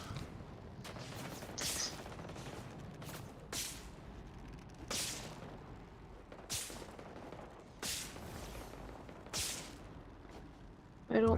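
Game gunfire from a Fortnite match comes in repeated sharp bursts roughly every second or two, moderately loud over a steady background din, with a person talking throughout.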